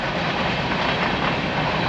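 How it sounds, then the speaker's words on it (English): A train rolls steadily through a small-town railroad crossing, a loud continuous broadband rumble and roar close by, with no horn blowing. "So now you still hear the train, but they don't have to blow the horn every time they come through"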